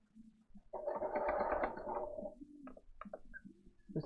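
A home sewing machine runs through a zigzag stitch in a steady mechanical whir lasting a couple of seconds, then slows into a few lighter ticks and taps, close and moderately quiet.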